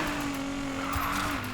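An Infiniti Q60 drifts in Need for Speed Payback, its engine holding a steady high drone while the tyres hiss and squeal through the slide, loud and close throughout.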